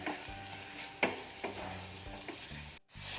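Vegetables and green peas being stirred in a pan while cooking oats kichadi, with a soft steady sizzle and a few distinct spoon scrapes and taps against the pan, no voices.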